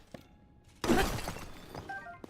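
Objects smash apart in Tears of the Kingdom, opening with a sudden loud crash of breaking and shattering that rings on with scattered debris and a few lighter clinks trailing off.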